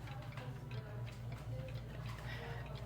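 Steady, even ticking from a cuckoo clock sits close and clear over a low background hum, the beats keeping a regular rhythm throughout.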